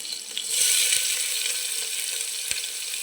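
Chopped onion and green chillies frying in a hot pan on a home stove, a steady close hiss with faint clinks, no voices.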